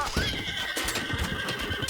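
Horses neigh and whinny in Age of Mythology Retold, with hooves clip-clopping under the calls. The sound is steady and fairly loud and sits among a busy battle mix.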